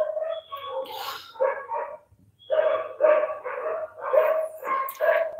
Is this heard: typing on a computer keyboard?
no